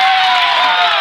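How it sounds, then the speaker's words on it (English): A steady, loud roar from a crowd of fans in a gym at an Okeene at Watonga girls basketball game, a brief, continuous swell of cheering with no clear individual voices. "their crowd is picking them up"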